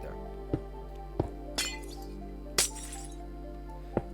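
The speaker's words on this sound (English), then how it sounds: "Break those 2 glass blocks and place redstone dust on top." Glass blocks broken one after another in Minecraft Bedrock, sounding as several sharp clinks and two louder shattering crashes spaced over a few seconds against a quiet steady hum.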